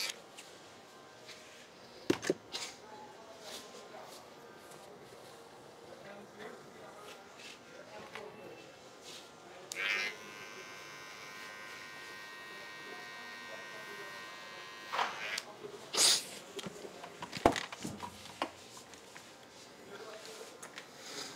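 An electric hair clipper buzzes in bursts during a barbershop mullet fade and pointed beard cut, with a steady whine midway, scattered clicks and handling noises, and someone talking throughout.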